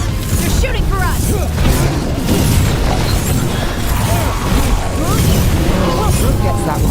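Gunfire in the Dragon Age: The Veilguard game comes as a loud, dense run of booms and bursts throughout, mixed with clashing effects and a voice speaking over the din.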